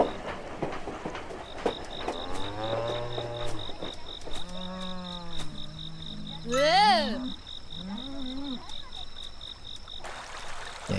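Cows in the Shin Chan Summer Vacation video game give several drawn-out, cartoonish moos one after another over a steady high electronic tone and chirping background.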